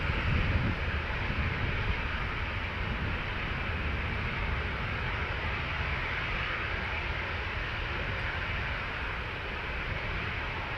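A steady, broad roar of jet engines at Amsterdam Schiphol Airport, with an Anadolu Jet airliner holding near a runway. The rumble stays constant and fairly loud at a middle distance throughout, with no speech.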